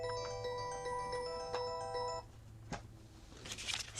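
A mobile phone rings with a spam call, a tonal electronic ringtone repeating for about two seconds before it cuts off, followed by a few soft clicks and rustles close by.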